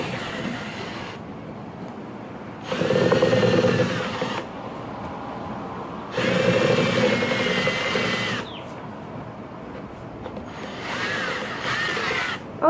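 Cordless drill driving a homemade watermelon smoothie machine, whirring loudly up close in three separate bursts of several seconds each, with quieter pauses between them and no talking.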